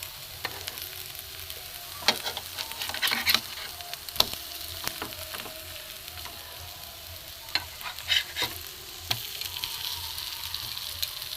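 Leftover roti frying in a little oil in a pan, a steady close sizzle with scattered crackles and spits and occasional stirring scrapes throughout, with no voices.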